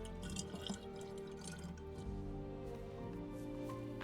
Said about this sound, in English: Next, I decided to head over to a nearby well to fill up on water